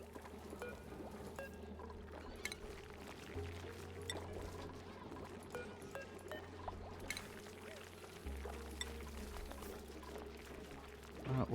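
Dirty water flowing in a base in Oxygen Not Included, a soft continuous pouring and trickling under a low game hum, quiet and steady with occasional small clicks.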